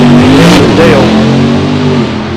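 A Dodge Demon drag races down the track, its engine roaring loudly as it accelerates away from the line and the pitch climbs and then settles into a steady, strained drone, with voices talking over it.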